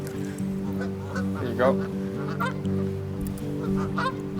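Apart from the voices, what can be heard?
baby duck and geese honking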